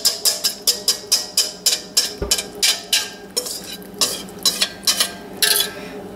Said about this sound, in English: And now we take that mixture of the biscuit, egg and milk, and just spread that on top